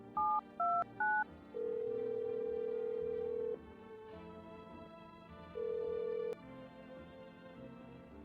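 Phone dialing in the video game No I'm not a Human: three quick two-tone keypad beeps, then two long ringback tones separated by a pause, clean and close with no talking.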